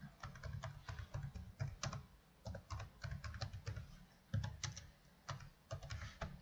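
Fingers tap steadily on a computer keyboard, the keys clicking close up in quick clusters with short pauses between bursts.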